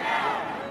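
At a governor's inauguration, a crowd including fracking protesters shouts and roars in a brief, dense wash of raised voices, steady and loud without a break.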